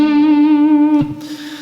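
Distorted electric guitar note played at the 6th fret of the first string in a D minor rock blues, a single sustained tone ringing loud and steady with rich overtones for about a second before it cuts off into a fainter tail.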